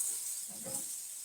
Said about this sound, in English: So what we're gonna do is we're gonna saute this.